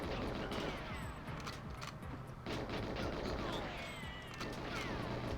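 Dense video-game gunfire fills the scene, with rapid shots, crashes and explosive bursts in a continuous loud barrage over several seconds and no speech over it.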